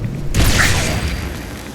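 A Tesla cannon fires in Fallout 4, giving one loud booming blast with a whooshing burst that fades into a rumbling tail.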